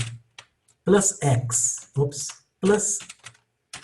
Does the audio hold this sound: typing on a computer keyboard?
yes